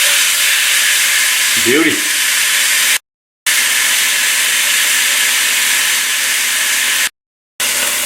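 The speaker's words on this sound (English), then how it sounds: "Let the protein in the hot pan cook for a little bit, couple minutes, and get them turned." Marinated pork tenderloin sizzles in a hot pan with a loud, steady, close hiss that cuts out briefly twice; a voice says a single short word early on.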